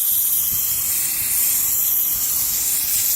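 A cleaning steamer blasts a continuous, loud, close hiss of steam that holds steady without pause, with no voices.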